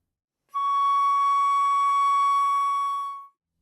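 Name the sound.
flute playing C sharp / D flat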